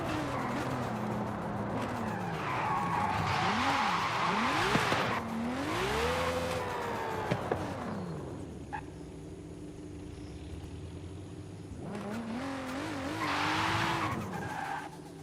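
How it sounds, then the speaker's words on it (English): A V12 engine in Forza Horizon 5 revs up and down through the mid-range in rising and falling sweeps, with tire squeal and skidding between pulls, then quieter idle before another loud surge. "The V12 sounds really rowdy in the mid-range"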